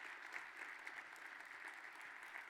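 Audience applause at a cloud security talk, a steady patter of many hands clapping heard from a distance for a couple of seconds with no voices over it.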